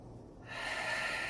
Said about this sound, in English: Big full inhale, big full exhale